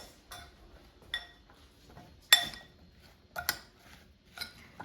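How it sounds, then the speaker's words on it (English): Sliced mushrooms are tossed with oil, salt, black pepper and garlic powder, giving a few sparse metallic clinks and taps from a utensil against a dish, with quiet gaps between them. "now I'm going to toss them so they're coated with oil and seasonings"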